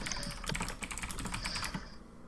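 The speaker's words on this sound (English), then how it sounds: "That is some loud typing" Fast, loud typing on a computer keyboard, a dense close clatter of key strikes running for about two seconds before tapering off, with no voices.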